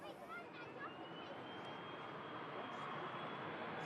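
An EasyJet A320 jet airliner bound for Nice on its departure roll down an airport runway: a steady, broad engine roar at a distance, holding constant and slowly building.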